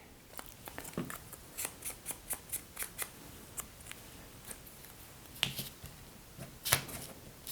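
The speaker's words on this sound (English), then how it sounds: "I think what I'm going to do is trim this one down a little bit, so I'm just going to tear it" Paper card is torn and handled for a vintage junk journal, giving a series of close, sharp crisp snaps and rips spaced irregularly over a quiet background.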